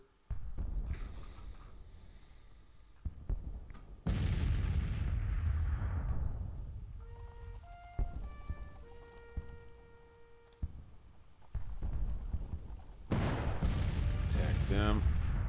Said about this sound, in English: Just keep the artillery pumping the whole time.